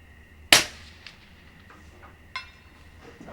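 A subsonic rifle shot from a Grey Birch MFG La Chassis rifle on an outdoor range, one sharp crack followed by a fainter distant report from the 300-yard target about two seconds later, with quiet ambience in between.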